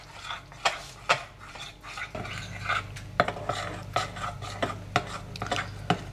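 Buckwheat batter with vanilla, almond extract and salt being stirred in a bowl, a steady run of close, light scraping and knocking strokes with sharp utensil taps against the side.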